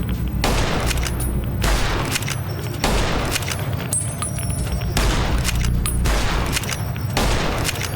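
Gunfire in Fallout New Vegas erupts in repeated dense bursts of shots and booms, several volleys separated by short gaps over several seconds, loud and close.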